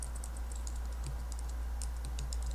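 Rapid clicking keystrokes on a computer keyboard as a texture name is typed, steady and close over a constant low hum.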